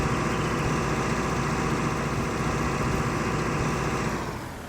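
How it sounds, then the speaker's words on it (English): A tractor pulling a Rau Spiram cultivator in Farming Simulator 19 runs with a continuous full engine roar that holds steady, then eases slightly near the end, with no speech. "The tractor seems to be handling it real well."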